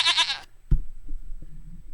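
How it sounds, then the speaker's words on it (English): A goat bleats once, loud and close, as a short wavering cry, followed by a few faint low knocks and quiet background. "Here's your goat."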